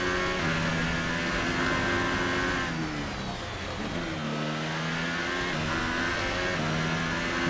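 A Formula 1 car engine in a racing game at the Austrian Grand Prix, screaming at high revs with a steady roar, dipping briefly as it shifts or lifts off, then climbing again, loud and close.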